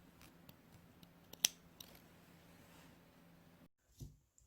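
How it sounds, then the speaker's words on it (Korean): Thread-snip scissors cutting overlock thread on a sewn garment, one crisp close snip over faint background handling noise, followed by a quieter click near the end. "촉가위로 이런 오버록 실은 바로바로 잘라줄게요"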